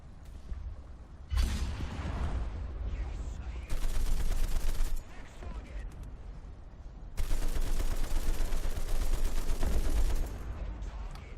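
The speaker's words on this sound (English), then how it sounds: "I'm about to show off some power of the 50 cal right here." A .50 cal machine gun in War Thunder fires in long sustained bursts of rapid rounds, loud and close, with quieter rumbling gameplay noise between the bursts.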